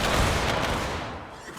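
A musket volley in Mount & Blade Warband set in the American Civil War, a dense crackling burst of massed gunfire that rolls out loud and broad, then decays into a rumbling tail.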